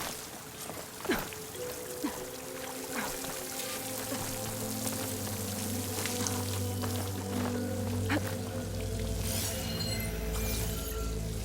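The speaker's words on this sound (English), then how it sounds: "The water's coming into the wall, towards a hollow, maybe." Water streaming into a wall beside a waterfall in the game Horizon Forbidden West, a steady splashing flow with scattered drips, joined partway through by a low sustained game tone.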